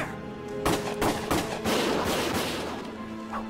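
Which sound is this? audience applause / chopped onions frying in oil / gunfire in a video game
gunfire in a video game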